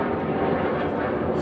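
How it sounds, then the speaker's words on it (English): Airplane passing overhead in a garden setting, a steady broadband engine roar filling the short stretch, loud and continuous with no talking. "so just wait for the plane to go overhead"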